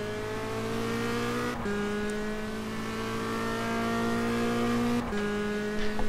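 A Clio touring car engine in rFactor2 during a World Clio Touring Cup race, holding a steady, buzzing drone with two abrupt gear-change dips.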